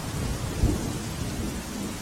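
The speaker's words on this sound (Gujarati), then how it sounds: "વલસાડના વાપીમાં ધોધમાર વરસાદ વરસી રહ્યો છે।" Heavy monsoon rain pours in a dense, steady hiss in Vapi, Valsad district, Gujarat, with a brief low rumble of thunder partway through.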